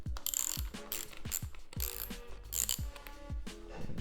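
Rapid ratcheting clicks from a hand tool backing out the hand guard screws on a Hypermotard 698 Mono motorcycle, coming in quick bursts of a few clicks with brief pauses between strokes, close and fairly quiet.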